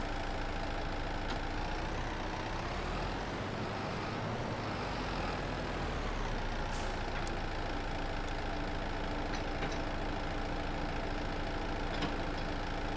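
A fire truck's hydraulic arm in Farming Simulator 22 hums steadily as it raises and lowers, an even engine-like drone sitting over a constant low rumble with no talking.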